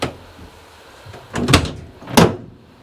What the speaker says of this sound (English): Can you just pop that door open now?